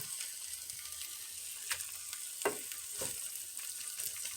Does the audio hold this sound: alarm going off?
no